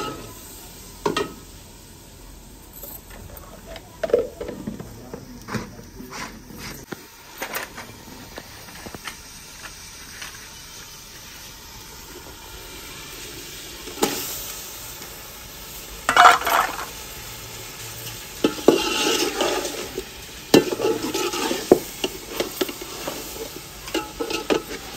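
Spices for chicken karahi are stirred and fried in a pan, a low sizzle broken by frequent scraping and metallic clinks of a utensil against the pot, growing busier toward the end.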